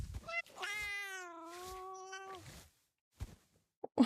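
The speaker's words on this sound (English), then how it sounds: "Why are all these cats here?" Cats meowing in a video game, with one long, wavering, tonal meow followed by a couple of short, quieter mews and a brief sharp chirp near the end.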